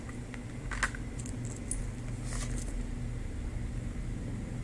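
Tarot cards being shuffled, giving a few brief rattling, clattering bursts over a steady low background hum, fairly close and otherwise quiet.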